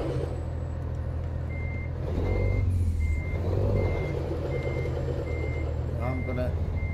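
Reversing beeps from an American Truck Simulator truck pulse at a steady rhythm, faint and high over a loud low engine rumble, with a voice talking throughout.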